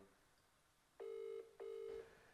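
An unanswered phone call rings out in two steady electronic ring tones, each about half a second long, with a short pause between them against a quiet background.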